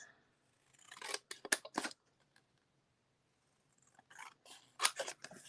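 Scissors snip through craft material in two close quiet bursts of quick cuts separated by a pause, with crisp clicking blade closures and no talking.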